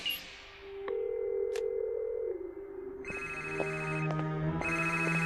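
An outgoing phone call rings out with a dial tone giving way to repeated electronic ringback tones, loud and close, sounding in regular bursts.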